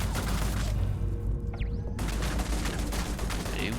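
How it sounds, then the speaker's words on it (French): Turret gunfire in the space game Starfield, a dense rattling burst of rapid shots, briefly pausing for a whooshing sweep before the clattering fire resumes, close and loud. "Qu'est-ce qui me tire dessus là? Ah, c'est la tourelle."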